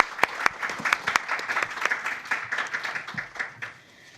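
An audience at a press conference at a foreign correspondents' club bursts into steady applause, many hands clapping close and even, tapering near the end as a kabuki actor is welcomed.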